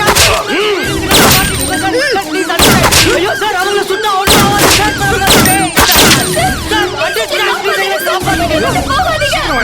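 Gunshots in a Tamil horror film, several loud sharp cracks spaced a couple of seconds apart over dramatic music, with voices shouting in the background.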